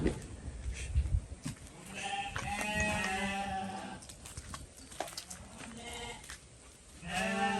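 Garut sheep bleat in a pen, several overlapping calls, some drawn out, over steady barn noise and rustling, fairly close with a faint voice in the background.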